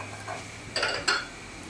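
A small saucepan for cooking apples gets handled on a kitchen stovetop, giving two brief metallic clanks close by against a quiet room, with no talking.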